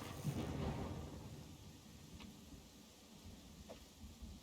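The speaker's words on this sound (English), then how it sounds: "The storm is nasty." A video game thunderstorm plays as a low, steady rumble with a hiss of rain, fairly quiet and distant, fading slightly over a few seconds with no voices over it.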